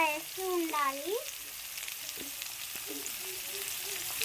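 Onions frying with fried rice in a pan make a steady, even sizzle throughout, with a brief voice near the start.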